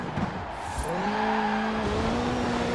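A car fitted with a 2-litre flat-4 rally engine drives in Forza Horizon 4, its raspy engine note rising in pitch as it accelerates, then holding a steady, close, loud drone, with a short thud near the start.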